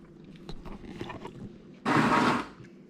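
Crunchy bites into cooked ash bolete mushroom, fried in salt and butter and gritty with dirt, come as a short loud burst of chewing close to the mouth after quieter mouth noises.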